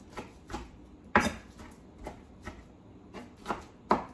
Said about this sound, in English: I'm just gonna roughly chop my vegetables, because I don't want them in here that large.